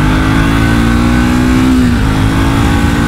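A Triumph Speed 400 motorcycle engine rolls on and revs up steadily, a loud, continuous near engine note rising smoothly in pitch before easing back, with no talk over it.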